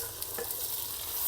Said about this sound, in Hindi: पोटा कलेजी। इसको ना थोड़ा सा पहले फ्राई कर लेते हैं, चिकन से भी पहले,